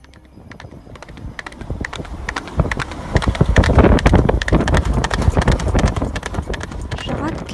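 Hooves of a horse rider in a Hindi audio play, a rhythmic galloping clip-clop that grows louder and closer over several seconds with wind-like noise, accompanied by a voice narrating.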